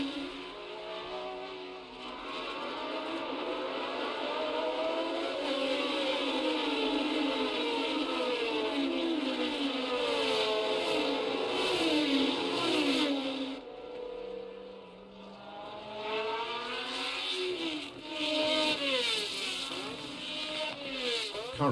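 Racing cars from 1970, including Lotus, Matra and Brabham machines battling together, scream past in a continuous high-pitched engine howl whose pitch swoops as cars pass. The sound dips briefly, then returns as more cars rush by.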